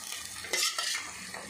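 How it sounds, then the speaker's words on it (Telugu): Chopped onions are stirred through hot oil in a pan at the start of a prawn and tomato curry, giving a few short scraping strokes over a soft sizzle, close and fairly loud, with no voices. "ఇప్పుడు ఆనియన్ వేసుకున్నాము. కలుపుకుందాం ఫ్రెండ్స్."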